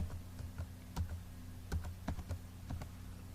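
An ID card number is typed into an online form on a computer keyboard, about a dozen close, distinct key taps in an uneven rhythm over a low hum.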